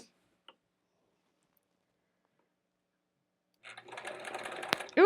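A home sewing machine doing free-motion quilting on fabric starts up after a long silence, running in a fast, steady, ticking chatter for about a second and a half near the end, with a few faint clicks before.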